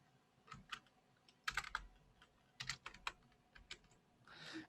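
Close, quiet typing on a computer keyboard, irregular key taps in short clusters with pauses, as a switch statement is entered in code.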